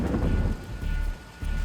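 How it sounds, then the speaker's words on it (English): A heavy early-morning winter storm roars with steady pounding rain and deep rumbling thunder, loud and continuous with brief dips in intensity, and no voices. "the storm hit, and it hit hard"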